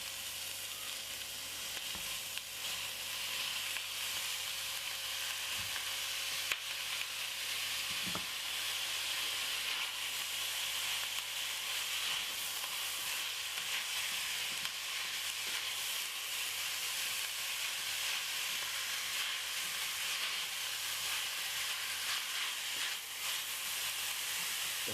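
Mince frying in a pan for bolognese, a steady close sizzle and hiss that carries on evenly throughout, with an occasional faint stir or scrape and no talking.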